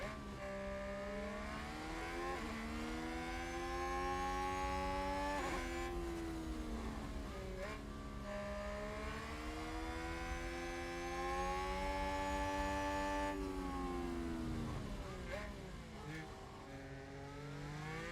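Formula 1 engines in the F1 Manager 2022 video game howl at high revs in a sustained, shifting whine that climbs and dips in pitch as cars race past, loud and continuous, with a Ferrari-powered car among them.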